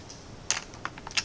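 A few quick clicks of a computer keyboard key and mouse, close and faint, scattered irregularly over a quiet background.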